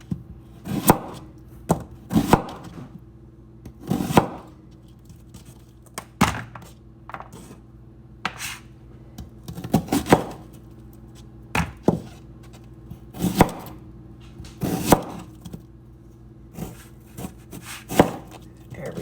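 Knife slicing vegetables on a cutting board during keto meal prep: a steady run of sharp, close chopping thunks in irregular bursts, loud and clear with no talking.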